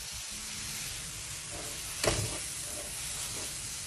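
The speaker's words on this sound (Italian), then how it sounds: "Adesso facciamo soffriggere tutto insieme." Pancetta cubes, crumbled sausage and minced meat frying together in a pan for a white ragù, a steady close sizzle with a brief louder crackle of stirring midway.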